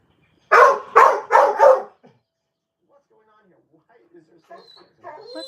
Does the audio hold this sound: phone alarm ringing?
no